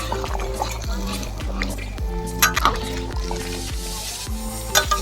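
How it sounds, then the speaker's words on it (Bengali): Thin red chicken curry simmering in a village kitchen after garam masala goes in, with steady bubbling, stirring and occasional clinks of a pot, alongside faint background voices. "গরম মশলাটা দিয়েই ঝোলটা অল্প একটু ফুটিয়ে নামিয়ে নেবো"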